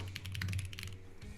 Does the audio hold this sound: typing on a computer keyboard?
yes